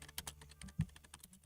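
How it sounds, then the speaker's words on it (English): Quick fingers typing on a computer keyboard, a rapid uneven patter of close, faint key clicks with one heavier thunk in the middle, no voices. "but let's just type this in real quick."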